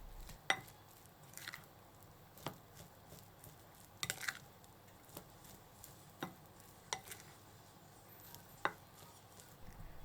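Hot rice is mixed with salt and Japanese soup stock powder, giving quiet, irregular taps and soft scraping strokes spaced a second or so apart, faint against a hushed background.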